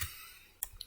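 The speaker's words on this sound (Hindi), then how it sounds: "या मैं डायरेक्टली यहाँ पे क्लिक करता हूँ" A computer mouse clicks a few times on screen elements in Microsoft Word, short sharp ticks near the end of an otherwise quiet moment.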